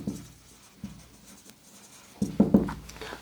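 Marker or chalk writing an SQL command on a classroom board, a few short scratchy strokes, faint at first and then louder, close by with no talk.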